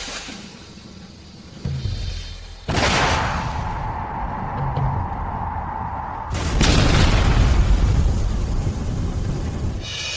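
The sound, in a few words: aerial bombs exploding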